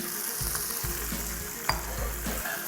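Fish frying in achari masala for fish karahi, a loud close sizzle with repeated stirring scrapes and low pulses from the pan, one sharp clink, and no talking.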